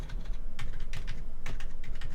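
Rapid clattering keystrokes on a cheap Wish computer keyboard, close and steady, with sharp clicks in uneven bursts and no voice.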